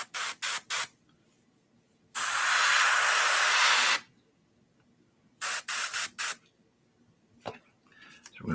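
Aerosol spray paint hissing onto a figure in green: several short quick bursts, then one long steady spray of about two seconds, followed by more short bursts, close and loud with quiet gaps between.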